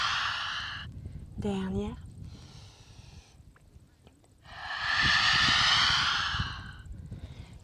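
Slow yoga exhales in downward dog pose: long, breathy rushes of air, one in the opening seconds and a louder, fuller one later. A brief spoken word and a quiet vocal sound come in between.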